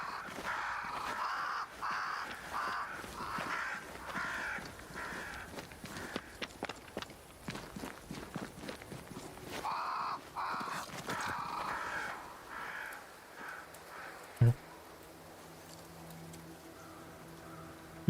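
Several crows caw in a dark forest scene of the game Banishers: Ghosts of New Eden, the calls scattered over footsteps and low ambient sound, with a sharp thud partway through and quieter ambience afterward.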